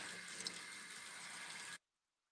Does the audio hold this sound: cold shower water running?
yes